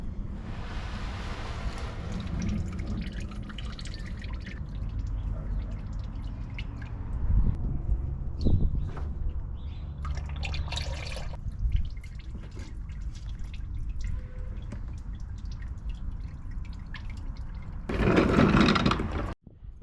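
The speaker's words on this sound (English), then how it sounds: "we're getting some drippage where it's not supposed to be" Engine oil dripping from a truck during an oil change, a loose patter of drips over low background rumble and wind noise, with a louder burst of splashing near the end.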